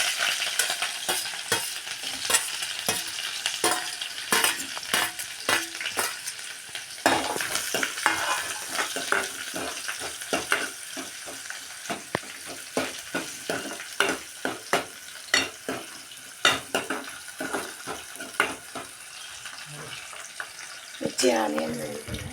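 Green chilies and onion frying in a pan give a steady close sizzle broken by frequent sharp stirring clacks, with running tap water and a voice speaking briefly near the end.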